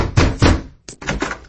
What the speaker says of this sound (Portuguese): batendo com força em sua porta